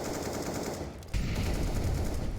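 Bursts of wall-bang gunfire in CS:GO on the Vertigo map during an Astralis versus G2 match, a steady rapid rattle that swells louder partway through, with no talk over it.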